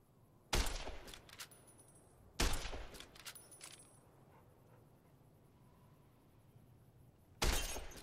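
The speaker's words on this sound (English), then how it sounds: "see the sarsaparilla bottles on the fence there? Take this and try to hit a couple of them." Three sharp gunshot cracks in the game Fallout: New Vegas, each shattering a sarsaparilla bottle on a fence, spaced a couple of seconds apart, loud and close with brief glassy debris after each.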